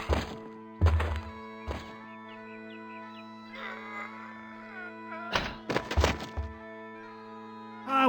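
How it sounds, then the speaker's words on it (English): Heavy wooden thuds of a caber hitting the ground in the pirate adventure game Monkey Island 3, several loud near impacts in two clusters over a steady low musical hum with faint bird-like chirps between. "the traditional Highland display of strength and virility, the caber toss"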